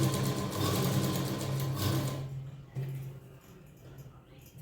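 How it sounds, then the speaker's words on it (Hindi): A sewing machine running steadily while stitching a folded blouse strip, a fast even whir that stops partway, leaving quiet handling noise. "फिर सिलाई मशीन को धीरे धीरे हमें चलाना है ताकि पट्टी हमारी बराबर लगे।"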